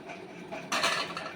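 A lid clanks onto a metal pot of chicken biryani being cooked at home, one bright metallic knock over soft kitchen rustling and clatter, close and fairly quiet.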